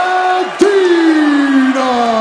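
Loud crowd cheering and whooping for an MMA fighter from Dracut, Massachusetts as he is introduced at a fight event, a steady roar with a voice rising briefly through it.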